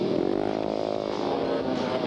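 Ice racing motorcycles, including a Harley-Davidson and a Rotax-powered bike, roaring close by on a frozen track in a 1994 race, a loud sustained engine drone with a rising and falling rev pitch, no talk.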